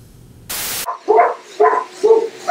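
Dogs bark at a school kennel club dog wash fundraiser at Norfolk Aggie: a burst of static, then four loud, evenly spaced barks close by, with no talk.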